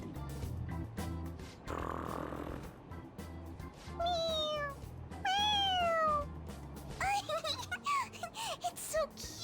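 A cat meowing in the video game Persona 5 Royal, with several drawn-out, rising and falling meows in close succession over game background sound, loud and clear in the middle and latter part.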